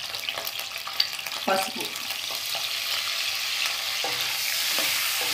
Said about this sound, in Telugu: కొంచెం గుడ్లు లైట్గా ఫ్రై చేసుకోవాలండి